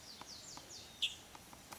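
Small bird near its nest in a tree, giving faint high chirps and thin descending tweets, a few brief calls spread across a quiet outdoor background.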